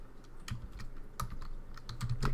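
Typing on a computer keyboard while writing Python code, irregular clusters of close, soft key clicks with short pauses between bursts, no voices.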